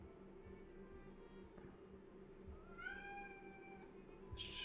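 A cat gives one drawn-out, rising meow at close range, set against a steady low background hum, with a short burst of noise at the very end.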